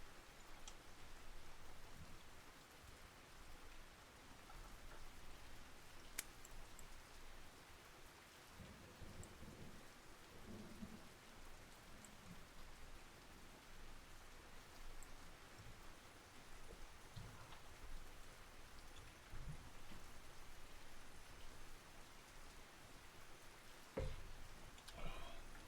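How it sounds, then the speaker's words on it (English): Steady rain pours with low rumbling thunder through a heavy storm at sea in the fishing game Russian Fishing 4, a continuous wash of noise with occasional louder cracks. "this is an epic storm"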